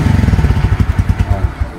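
Motorcycle engine running with a quick throttle blip, pulsing loud and close in a steady rapid chugging rhythm with no talk over it.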